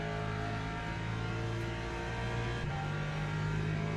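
A race car in the Le Mans Ultimate video game accelerates hard, its engine droning at a steady high pitch with a brief gear change partway through, loud and close throughout.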